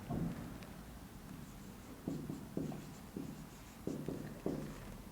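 Pen or chalk writing an equation by hand during a maths lesson on real numbers: short scratchy strokes in quick bursts, close and fairly quiet, with pauses between groups of marks.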